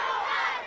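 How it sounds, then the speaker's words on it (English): A dense crowd of excited schoolchildren at an elementary school chants and cheers loudly for passing cyclists, a brief sustained roar of young voices. "Chanting, "Go Riders Go," the students held up signs cheering on more than 100 cyclists"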